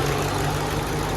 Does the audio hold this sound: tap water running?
no